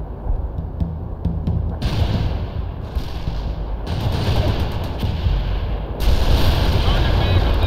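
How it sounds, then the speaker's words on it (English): Artillery shells burst in the World in Conflict video game, a dense rolling barrage of booming blasts and crackling explosions that swells louder toward the end, with radio-style voice chatter under the din. "Artillery strike completed."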